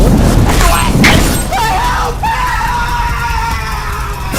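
The anime demon Hantengu screams in terror for his life, a loud, strained high-pitched wail that rises and sustains after a burst of shouting and thumping, set over dramatic background sound.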